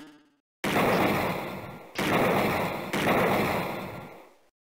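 Three loud, sharp gunshot bursts in quick succession, each ringing out and decaying, fired at targets on a shooting range in the Sega CD cyberpunk adventure game Snatcher.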